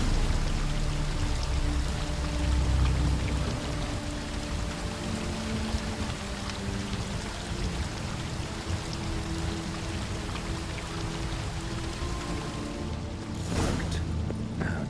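A river current flows downstream below a waterfall in The Witcher 3, heard as a steady watery rush with a low rumble, continuous and fairly loud, with a brief splash near the end.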